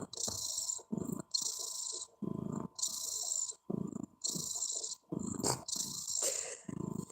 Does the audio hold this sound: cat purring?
yes